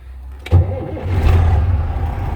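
A car engine cranks and catches, then settles into a close, steady low idle rumble that swells slightly before evening out.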